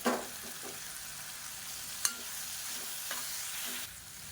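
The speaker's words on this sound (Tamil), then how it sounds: "மல்லி இலை சேர்த்து நல்லா வதக்கியாச்சு" Coriander leaves sautéing with tomatoes for chutney, a faint, steady low sizzle with a few soft spoon taps and scrapes, heard alone.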